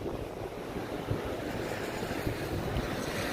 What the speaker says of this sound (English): The wind picks up a little